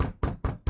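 Three sharp, loud knocks land on a house door in an even rhythm, each one close and alone with no voices.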